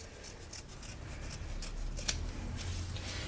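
Scissors cutting fabric along a marked line, a quiet close series of rhythmic crisp snips at an even pace, with no talking.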